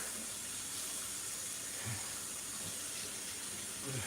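Tap water runs steadily from a faucet, filling a glass for drinking, a soft continuous hissing stream heard alone at low volume.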